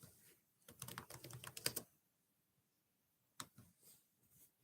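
A short flurry of rapid computer keyboard keystrokes, then a pause of near silence before a few more scattered taps, close and soft.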